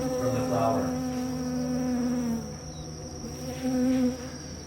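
Honeybees buzz steadily at a hive, a dense close drone that swells and dips with a few louder passes as individual bees fly near.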